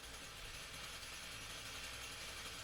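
An Echo string trimmer's small engine runs steadily at close range, a dense, even mechanical drone that holds unbroken throughout with no talking.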